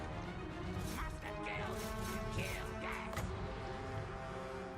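Orc archers clash with infantry in melee combat in Total War Warhammer 2, a dense din of smashing, whacking blows and clatter that stays steady throughout, with a voice talking over it.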